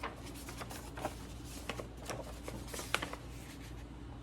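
A large Father's Day greeting card is handled and opened up close, with soft papery rustling and a series of light crisp flicks and taps.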